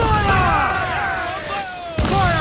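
Ship cannons fire in Assassin's Creed 4 Black Flag during a naval battle, with broadband booms near the start and again around two seconds, under tonal music and shouted crew voices.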